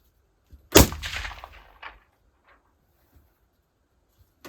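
A single sharp gunshot cracks from a rifle fitted with a Somogear NGAL or PEQ15 laser, loud and close, its echo ringing out over a second before fading to near silence.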